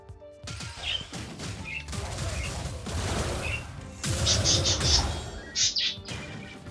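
In the Wizard of Legend video game, a bird gives a few short, high chirps over busy game effects, including clanks and crashes, with bright trills toward the end.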